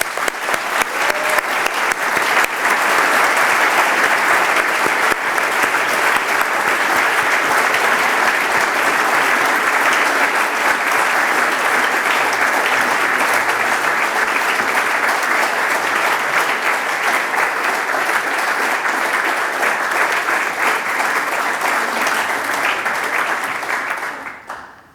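Sustained, steady applause from a large audience at an architecture awards ceremony, greeting a winner walking to the stage; the clapping stays full and even throughout before cutting off abruptly at the end.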